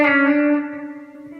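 A single electric guitar note on a B-bender guitar, picked once then slid down a fret and back up, ringing clearly with sustain and fading over about a second and a half.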